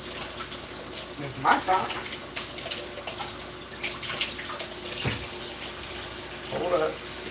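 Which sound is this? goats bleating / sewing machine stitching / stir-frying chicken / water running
water running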